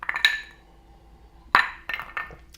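A giant ice cube clinks against a whiskey glass of rye in a few close, bright knocks, one early, one sharp in the middle and a couple of softer taps after, with quiet gaps between.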